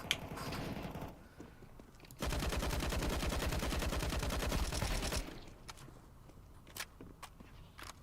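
Gunfire in an animated short: a short burst, then a sustained rapid machine-gun fusillade of about three seconds, loud and dense, trailing into scattered clicks and footsteps.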